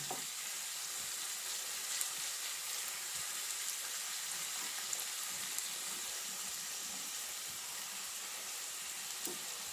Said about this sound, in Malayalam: ഇതേപോലെ മറിച്ചിട്ട് കൊടുത്തിട്ട് വീണ്ടും 2 സൈഡും ഒരേപോലെ തന്നെ നമുക്ക് മൂപ്പിച്ചെടുക്കാം